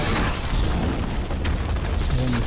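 A turret's nuke detonates in Borderlands 2, a dense roaring boom that fills the whole clip with sustained rumbling blast noise, loud and close, with a brief whine toward the end.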